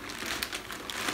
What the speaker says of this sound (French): On va mettre un peu d'argile.